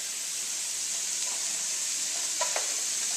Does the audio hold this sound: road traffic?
no